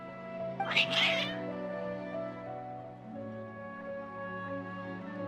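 Cats in the Genshin Impact video game give a brief, agitated burst of meowing over steady game background music.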